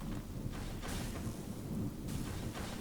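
Lightning bolts crackling in the dungeon game Legend of Grimrock, a faint, continuous rumbling crackle with broad noisy bursts swelling and easing, no voices.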